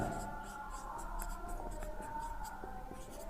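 Hand writing on a board, a continuous scratch of strokes with small taps, running under a steady background hum.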